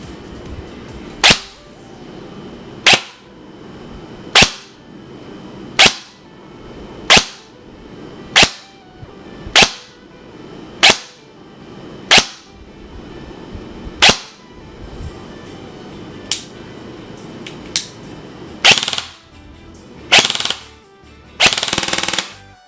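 Classic Army Block 3 M-LOK airsoft AEG rifle with ECS MOSFET firing BBs in single shots, about fifteen sharp cracks spaced roughly a second or more apart, the last few in quicker, louder bursts, with no talking.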